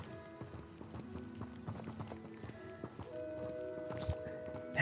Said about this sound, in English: the ambient sounds of footsteps as we walk across the vile fields outside Hogsmeade